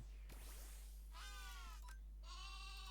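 A sheep Pokémon cries in the Cobblemon Minecraft mod, giving two wavering bleats one after the other over a steady low hum.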